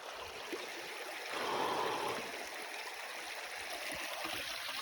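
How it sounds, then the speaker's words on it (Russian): A small branch of a river flowing, a continuous near rushing and gurgling of water that swells briefly, with no voices. "речка. Какое-то из ответвлений."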